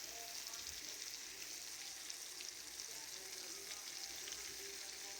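Steak searing in a pan over medium-high heat gives a steady, quiet sizzle and crackle, an even hiss that runs unbroken and alone.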